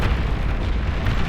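Pulsar cannons fire in Beyond All Reason, a dense rumbling barrage of overlapping booms and bursts that stays loud and continuous throughout.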